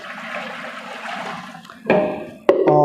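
Cold water chilled in a fridge is poured into a lab water bath to make an ice bath. A soft, sloshing pour builds up, then comes a sudden louder splash and a bright, ringing gush near the end.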